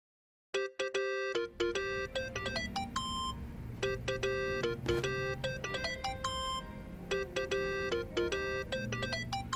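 A phone ringtone plays in the Yakuza: Like a Dragon video game, a bright repeating electronic melody of quick tones, close and clear over a soft background hum, with no talk.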